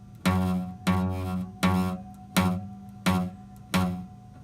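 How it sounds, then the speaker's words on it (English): Acoustic guitar note played with the fret not pressed down hard enough, giving a dull, buzzy, muted tone; six evenly spaced plucks, each quickly decaying, close and moderately loud with no talk. "So if I'm not pressing down hard enough, it might sound like this."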